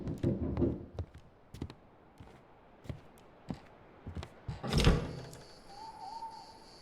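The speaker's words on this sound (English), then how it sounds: "Seems like someone's knocking at the front door." Knocking at the front door of a lighthouse in the horror game Static Dread: several sharp, irregularly spaced knocks, then a louder heavy thud near the end, fading into a faint hum.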